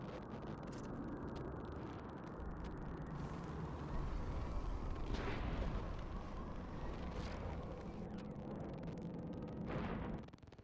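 A big bomb detonates in the sci-fi video game Mass Effect 3, a loud roaring blast swelling over sustained rumbling noise with a couple of rushing bursts, continuous and dense throughout.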